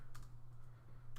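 A few quick, faint clicks of keys on a computer keyboard, spaced apart over a low steady hum, brief and close.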